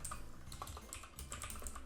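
Rapid, quiet keystrokes on a computer keyboard, an uneven run of light clicks close by with no talking.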